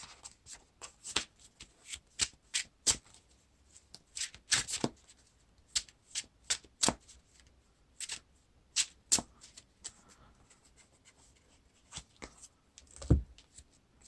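Playing cards riffle-shuffled by hand for a mulligan in the Lord of the Rings card game, heard as a steady run of sharp, close, crisp bursts with short pauses between them and no voices.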